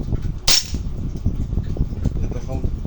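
A single sharp shot from a Tokyo Marui MWS Mk16 URG-I airsoft rifle, set up as a DMR with steel internals, cracks once early on over steady background noise and low rumble.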